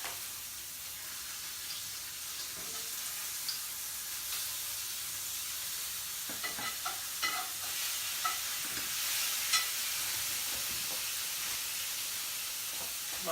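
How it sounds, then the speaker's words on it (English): Bacon browning in a pan, a steady sizzle and hiss with scattered pops and crackles, a few louder spits near the middle as it cooks. "because we're just browning this bacon"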